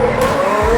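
F2 race cars at the Bahrain Grand Prix scream past, a loud high-pitched engine whine with a sustained tone and a rising rumble at the end, heard close and alone.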